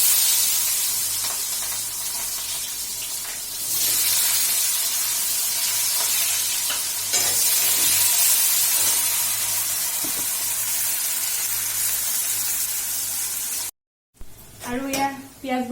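Two medium-size chopped onions tipped into a pan with a bay leaf, frying with a steady loud sizzle and hiss that runs nearly the whole time, ending with a brief pause and then a voice speaking.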